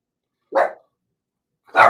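A dog under a desk gives two short, sharp barks about a second apart, close and loud with silence between.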